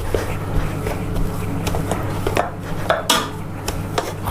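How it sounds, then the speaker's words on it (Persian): Boiled potatoes being mashed in a pot with a hand masher for an Olivier salad, a run of soft irregular thumps and clinks of metal against the pot, close and steady, with no talk. "سیب زمینی‌های من که پخته شد، الان شروع میکنم با گوشت‌کوب له کردن با این"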